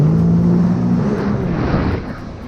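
A jet ski engine in sport mode, with the craft jumping over the water. It gives a loud, continuous engine roar that stays close and fades slightly near the end.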